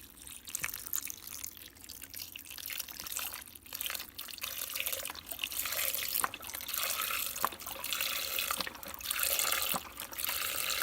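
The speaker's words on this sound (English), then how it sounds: "Then I'm going to put my beef stock in." Beef stock is poured into a pot of pasta fagioli, a continuous splashing, gurgling stream that swells and fades over several seconds, close by, with no talking.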